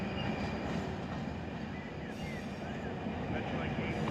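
Railroad cars roll past in a classification yard at Barstow in the Run 8 train simulator, a steady, dense rumble of wheels on track with faint squeals running throughout, close and continuous.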